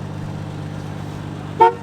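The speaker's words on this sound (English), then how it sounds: "Hey, the horn even works." A 1973 Dodge Dart Swinger's horn gives one short, loud honk near the end, following a steady idling engine rumble with no talking.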